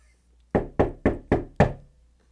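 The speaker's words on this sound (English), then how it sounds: "knocking lower on the door." Foley knocks low on a door in a home studio: five firm, close knocks in a brisk, even rhythm, alone against a quiet background.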